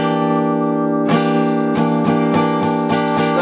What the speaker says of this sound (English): you want to mute the high E string and the low E string